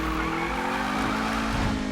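A Mazda Miata in Need for Speed 2015 drives with a steady, loud engine drone that rises slowly in pitch, and tire squeal runs through the whole stretch with no talk.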